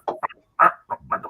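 A person imitates a hen clucking with a quick series of short, choppy throaty clucks, bursts bunched unevenly with brief gaps, close and clear.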